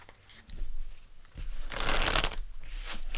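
Tarot cards being shuffled and pulled during a reading, a few soft taps and handling noises followed by a loud, close riffling burst of shuffling that fades into lighter card rustles.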